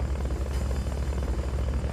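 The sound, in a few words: helicopter in video game Metal Gear Solid: Peace Walker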